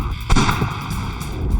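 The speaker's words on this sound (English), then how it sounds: "It allows you to put multiple barrels on it, shoot multiple bullets." One loud, sharp shot from a multi-barrel test device chambered for .44, fired against a safe-house panel, cracking close by over a rumbling, noisy background, with a few fainter thumps after it.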